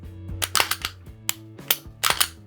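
Dry-fire function check on a Glock 26 pistol, the trigger pinned back and released, giving a series of sharp, close mechanical clicks and snaps at uneven intervals, with no talking.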